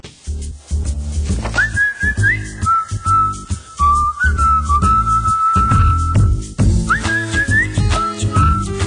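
A relaxed human whistle carries a wandering melody over a rhythmic music backing in an accounting software advert, loud and upfront throughout.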